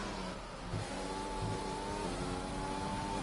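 A race car engine in a sim racing game, held at a steady drone near a single pitch with small hesitant lifts in revs, as if the throttle is only partly pressed.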